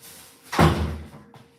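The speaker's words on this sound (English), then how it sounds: "let me shut this door as well" An indoor door swung shut in a room, a single firm thud with a short rattle, close and fairly loud against quiet background.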